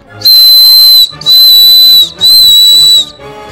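A handmade whistle of rolled paper shrills in three long, piercing blasts with short gaps between them, very loud and close, with no talk.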